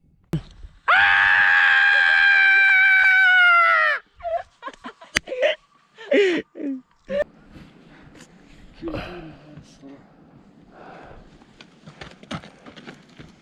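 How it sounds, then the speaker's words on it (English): A man lets out a loud, sustained yell of frustration lasting about three seconds on a remote mountain trek, followed by sharp gasps, groans and scattered shorter vocal bursts over faint outdoor background. "I yelled in order to release my frustration"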